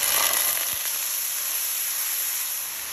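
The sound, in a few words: green seasoning and tomato paste sizzling in hot oil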